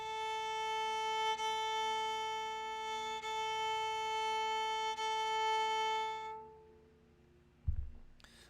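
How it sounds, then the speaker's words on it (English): Bowed viola A string held as a steady, sustained tuning note for about six seconds, loud and close with a rich harmonic tone, fading out, followed by a brief low knock near the end. "If you need to tune your A string,"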